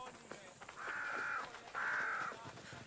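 A crow caws twice in Assassin's Creed Odyssey, two drawn-out harsh calls with a short gap between them, clear over faint ambient noise.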